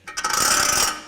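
Ford F150 4WD vacuum hub actuator in partial engagement producing a quick ratcheting, grinding mechanical whir that rises and fades within about a second, close and moderately loud.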